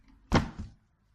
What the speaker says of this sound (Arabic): حاول افتح الباب